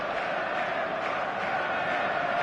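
A match-day stadium crowd at Liverpool in the eFootball video game, a dense, steady roar of many voices with cheering swells, continuous and fairly loud throughout.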